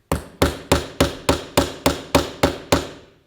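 Hammering in a demonstration of ancient Minoan and Mycenaean craft technology: ten sharp, evenly spaced metallic strikes about a third of a second apart, close and loud, each ringing briefly before the next.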